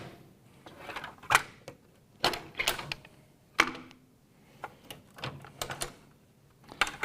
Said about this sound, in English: So I have to take the guard off.